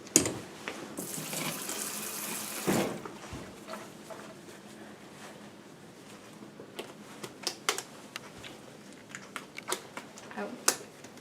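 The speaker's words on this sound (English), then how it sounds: "Lisa, wash your hand." Tap water runs steadily into a sink while hands are washed in a clinical sterilization setting, a brief louder gush coming early, then sharp clicks and knocks over the flow and some talking in the room.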